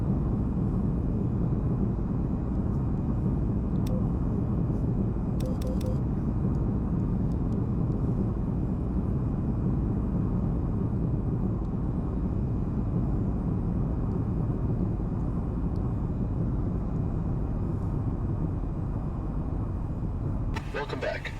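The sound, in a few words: aircraft taxiing after landing, from the video game VTOL VR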